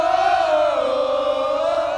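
A stadium crowd roars and chants at a Newcastle Knights rugby league grand final celebration, a loud, sustained wall of voices bellowing together.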